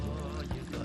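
Plain water poured into a bowl of ordinary wheat flour and salt while making noodle dough, a steady close liquid splash lasting under a second.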